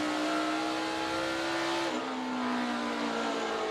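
NASCAR Xfinity Series race cars run at Richmond Raceway during the ToyotaCare 250, a loud, continuous engine drone whose pitch shifts midway as cars race through lapped traffic.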